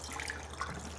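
Running tap water splashing over hands being rinsed at a sink, a steady close hiss of flowing water with small bright droplet splashes, no talking.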